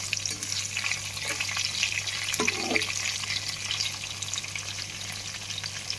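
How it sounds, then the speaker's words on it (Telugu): Masala upma ingredients fry in hot oil until golden, a dense steady sizzle crackling without pause, with a brief scrape of stirring partway through and no voices. "సో ఫస్ట్ ఇవి వచ్చేసి కొంచెం దోరగా వేగాలి"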